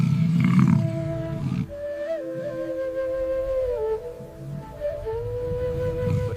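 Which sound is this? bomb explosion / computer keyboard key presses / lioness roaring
lioness roaring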